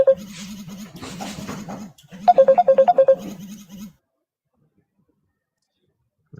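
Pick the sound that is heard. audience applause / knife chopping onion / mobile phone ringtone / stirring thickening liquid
mobile phone ringtone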